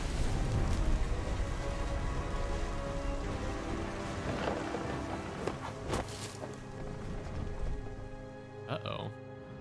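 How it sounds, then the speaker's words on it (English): Heavy rain pours steadily through a storm in the game What Remains of Edith Finch, with rumbling thunder swelling in the background and a brief sharp event near the end. "Thunder sounded much too close and full of angry power."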